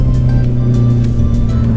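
A car cruising along an open, uncrowded road, its steady engine drone and tyre hum close and constant, with no talk.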